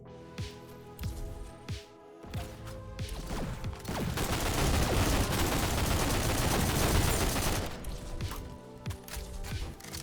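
Rapid gunfire bursts from the fast shooter video game GTTOD: Get To The Orange Door, a dense stretch of sustained automatic fire in the middle framed by scattered single shots and impacts, loud and close.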